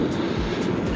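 A drone flies overhead along a road during a long-distance ride, giving a steady, close whirring drone that holds an even level throughout, with no talking.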